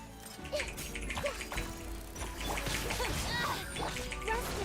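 Short electronic barks and yips from a robotic dog in the video game Genshin Impact, several quick bursts over game music and effects.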